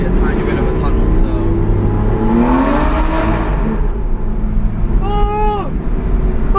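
An Aston Martin V12 revs hard inside a short tunnel, its rising and falling whine close and loud amid a supercar convoy, with other car noise and voices around it.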